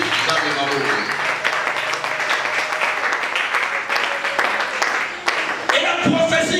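A church congregation at a Sunday service applauds, a steady wash of clapping that carries on for several seconds, with voices mixed in throughout.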